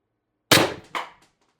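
An HPA-powered X-68 airsoft gun firing at 800 psi: a single sharp, loud pop followed by a quick second mechanical knock, then the sound dies away, with no talk.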